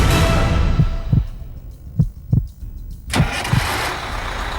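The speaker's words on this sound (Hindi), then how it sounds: "ट्रक का इंजन फिर स्टार्ट किया गया" A truck engine cranks in repeated bursts, near and loud, each turnover pulsing against a steady rumble before it catches, during a risky stunt with a man lying on his stomach near the wheel on a stony slope.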